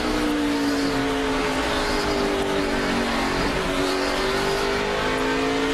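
NASCAR Cup Series race cars at speed on an oval, a loud continuous roar of engines with pitch rising and falling as cars sweep past, pack noise blending under the steady drone.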